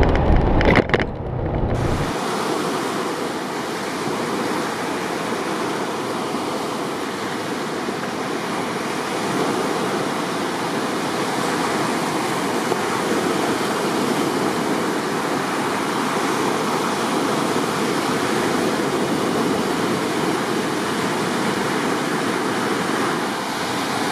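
Steady broadband rush of flowing water near a temple at Khai Dinh Tomb in Hué, Vietnam, continuous and fairly loud throughout after a brief bump at the start, with no talking.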